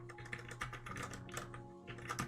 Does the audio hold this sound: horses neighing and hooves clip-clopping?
no